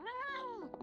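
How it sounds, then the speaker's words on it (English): A cartoon cat in an anime gives a single drawn-out meow, rising then falling, close and clear, followed by a couple of faint clicks. "cat."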